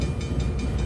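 Low rumbling train noise aboard the Horror Express, a steady roar with faint rhythmic clatter roughly every fifth of a second, fairly quiet and with no voices.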